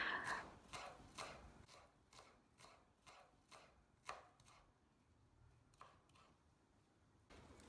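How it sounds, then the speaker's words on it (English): A knife chopping scallions on a cutting board, a series of sharp, close taps in an irregular rhythm, quick clusters at first then spaced out, quiet and isolated. "The first thing we're going to do is to chop up our scallions or spring onions or green onions"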